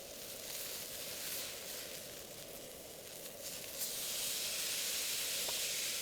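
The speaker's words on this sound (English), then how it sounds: "What kind of camping video would this be if I didn't get the first steak flip?" Steak sizzling on a camp stove just after being flipped, a steady broad hiss and crackle that holds close and even throughout, swelling slightly louder in the last couple of seconds.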